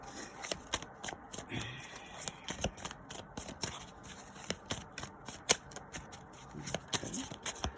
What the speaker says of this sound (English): I'm going to cut my deck, and I will pull straight off the top